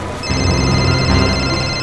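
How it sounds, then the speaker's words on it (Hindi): A mobile phone ringtone starts after a brief pause and plays on continuously, a bright electronic tune with steady sustained tones. "शिशिर का फोन, ये तो शिशिर का फोन है"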